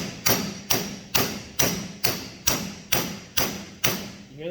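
Bearing tapped down onto the output shaft of a Ford Ranger M5R1 manual transmission, nine evenly spaced sharp metallic thuds, loud and close, each with a quick ringing decay and the pitch rising slightly as it seats.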